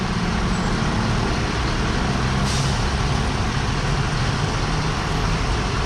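A city bus rumbles past on a street in Asunción, Paraguay, with loud, steady low engine and road noise and a brief hiss partway through. No one speaks.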